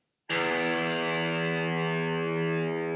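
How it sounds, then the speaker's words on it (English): A single open low E string on an electric guitar is struck once and rings out loud and distorted, sustaining steadily with rich buzzing overtones. "This one here, what we're going to do is we're going to twang it."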